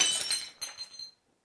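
A glass object smashes in a kitchen, a bright shattering crash followed by a few tinkling, clinking fragments that die away into silence within about a second.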